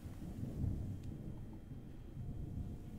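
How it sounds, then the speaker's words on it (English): A thunderstorm closing in over the open sea, heard as a steady low rumble of rolling thunder with a broad wash of wind and rain noise, fairly constant throughout and swelling slightly early on. "Look, a storm be approaching."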